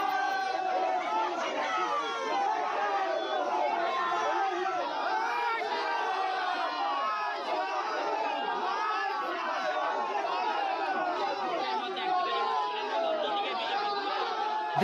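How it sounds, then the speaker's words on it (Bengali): A dense crowd at a polling school in Siliguri during the 2024 Lok Sabha election, chanting and shouting rival political slogans, a continuous loud jumble of many voices with no pauses. "আর তখনই চলে স্লোগান পাল্টা স্লোগান।"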